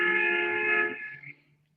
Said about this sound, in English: The guy just honked his fucking horn like that.